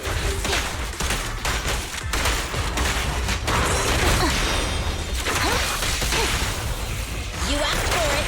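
Rapid bursts of gunfire in the Zenless Zone Zero video game, dense and loud, mixed with whooshes, impacts and crashing effects, with some voices now and then.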